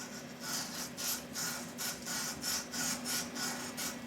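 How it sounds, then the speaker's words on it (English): Emery cloth rubbed back and forth over a filed metal surface on a shopmade micrometer, a close, raspy scrubbing in about a dozen even strokes, alone without talk. "now with the emery cloth, where I just cleaned the surface, I follow the surface like this"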